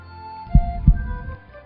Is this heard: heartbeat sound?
yes